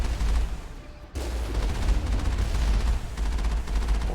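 Turrets fire in Mass Effect 1 as rapid, dense bursts of gunfire, loud and continuous with a brief gap, with no voices over them.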